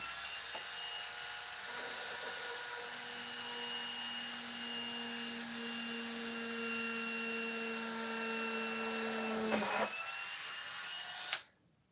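A Dremel rotary tool drills into a slippery surface while building a shooting range and gun rack, giving a steady whining, grinding buzz that holds for about ten seconds before cutting off abruptly.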